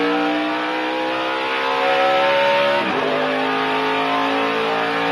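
A NASCAR race car on a qualifying lap at the United Rentals 300 roars steadily at high RPM, a sustained loud engine whine with a brief shift-like dip midway, no talk.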